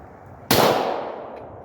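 A single sharp .40 caliber pistol shot fired at 2 by 1 foot targets 60 feet downrange, loud and close with a quick crack and a decaying ring-out, alone with no talk.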